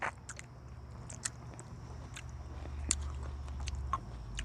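Close, moist bites and chewing of a homegrown tomato picked from a small backyard garden, soft squishy crunches repeating over a low steady background hum.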